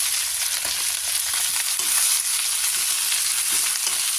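Pechay greens, tomato and chili sizzle and fry in a pan, giving a continuous close hiss with small crackles and no pauses.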